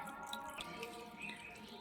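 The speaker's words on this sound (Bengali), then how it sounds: "জলটা ভরলে কিন্তু এখানে দেখতে পাচ্ছেন জল পড়ছে।" Water trickles and drips steadily from a power tiller radiator during draining, a continuous close splashing flow with no talking.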